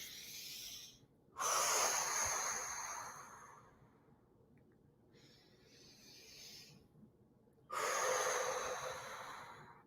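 Shallow breathing is demonstrated in two loud, breathy bursts of air separated by a quieter, softer exhale, close and airy with no speech over it.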